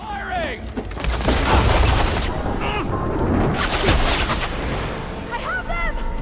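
Gunfire in the video game Horizon Forbidden West cracks and booms in dense rolling barrages, close and loud, with voices shouting over the combat.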